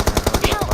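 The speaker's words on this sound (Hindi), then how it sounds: "मेरे पे मशीन गन है" A machine gun in the mobile shooter BGMI fires a rapid close burst of roughly eight evenly spaced, punchy shots in under a second.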